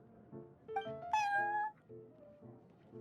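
A video game cat meows several times in a row, a short rising meow followed by a longer, louder, drawn-out cry with clear tonal harmonics, set over a soft steady background music pattern.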